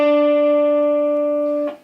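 A single sustained guitar note from the A minor pentatonic scale rings out, near and clear, decaying slowly with a faint pick or touch near the end; no further distinct notes stand out.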